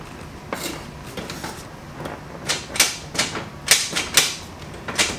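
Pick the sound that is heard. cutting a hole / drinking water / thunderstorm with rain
cutting a hole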